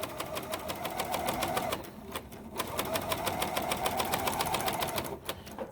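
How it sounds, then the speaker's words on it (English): A serger sewing machine with a gathering foot stitching fabric, a fast steady mechanical chatter close by, pausing briefly before running on again, with no talk over it. "I like to end my serging by stitching off."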